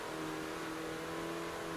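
A 2018 Renault Megane RS hot hatchback engine drones steadily from inside the car while driving, a constant mid-pitched hum with no talk over it.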